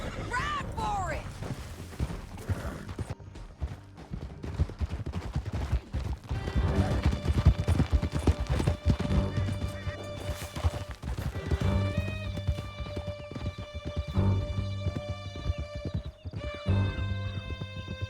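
Horses gallop through a canyon in Red Dead Redemption 2, rapid hoofbeats pounding loudly throughout alongside neighs, gunfire bursts and shouted voices, with game music swelling in the background.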